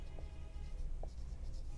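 A pen writes out an equation by hand, producing a quiet, steady scratching across the paper with a couple of soft taps, with no voices.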